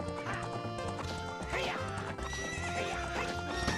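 Epona the horse from Zelda: Ocarina of Time whinnies loudly in game audio, with clip-clopping hooves and backing music filling the short stretch.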